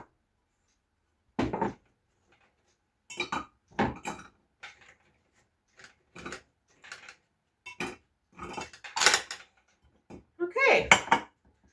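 Homemade cookies go into a cookie jar in a home kitchen, a series of short clinks and clatters of ceramic and lid, close up, spaced out over a calm room.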